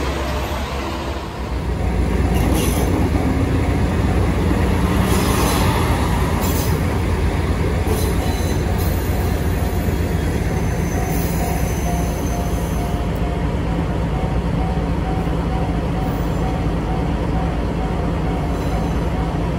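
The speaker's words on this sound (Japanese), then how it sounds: "オロチ号と入れ替わりでキハ120が3段式スイッチバックに挑んでいきます" A KiHa 120 diesel railcar on a three-stage switchback, a steady loud engine drone and rumble of the train working uphill, continuous throughout without a break.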